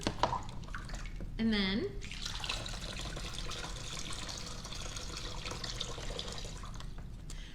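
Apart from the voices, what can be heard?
water poured through a funnel into a pool noodle tube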